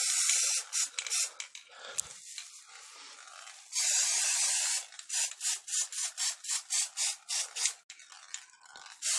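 Spray paint hissing onto a game controller, in bursts: a few longer sprays followed by a quick run of short, regular puffs, fairly close.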